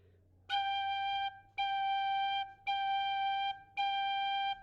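A tin whistle plays the note G four times, each sustained tone separated by tonguing into even, steady bursts with brief gaps, close and clear.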